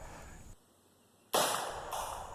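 An AR-15 rifle chambered in 5.56 with no muzzle device fires a single sharp report after a brief quiet stretch, followed by lingering noise as the blast fades.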